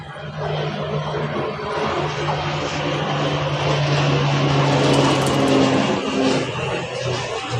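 A low-flying airplane passes close overhead on a hot day, its engine a loud, steady drone with a sustained hum that swells and lingers for several seconds, while faint voices sit beneath it.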